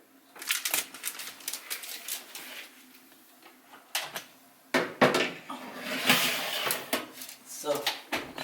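A baking tray loaded with flatbread is slid into a home oven, with clattering metal knocks and scrapes, a door bump, and a person talking over the handling.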